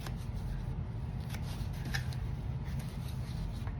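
Scissors or a blade slice through a small piece of foam board for a DIY baby crib gift box, giving a steady, close scratchy cutting sound with faint crisp snips and no talking.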